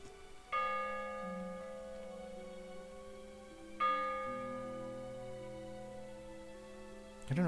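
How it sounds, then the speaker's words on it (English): A bell tolls twice in the fishing game Dredge, each strike ringing out with a long, slowly decaying resonance, spaced a few seconds apart, then a third strike begins at the end; no one speaks over it. "I don't know what this bell tolling is."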